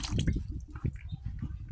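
Cloth dipped into a bucket of warm mixed water and lifted out, giving close, wet splashing and irregular dripping sounds in short bursts.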